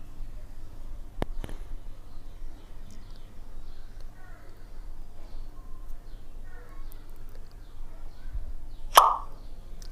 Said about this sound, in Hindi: पॉप साउंड कैसा होता है, जैसे कि बोतल खोलते हैं तो जैसा आवाज़ आता है उसको बोलते हैं पॉप साउंड